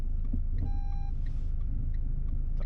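Car engine idling low and steady while reversing during a French driving test in Rosny-sous-Bois, with a brief electronic beep partway through.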